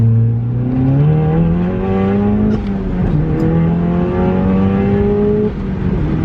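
An Audi S1 with a Scorpion downpipe pulls hard from inside the cabin, its throaty exhaust note climbing steadily through one gear, dipping at a shift, then rising again, loud and continuous with no talk.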